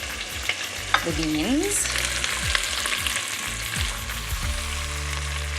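Asparagus, beans and peas fry in butter in a pan with a steady close sizzle, broken by stirring scrapes and a few clinks, while a voice speaks briefly near the start.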